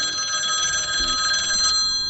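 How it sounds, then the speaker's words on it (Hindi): A mobile phone rings with a steady electronic tone, loud and close, its trilling ringtone repeating without pause in a tense horror-story scene. "तभी संदीप की फ़ोन की रिंग बजी।"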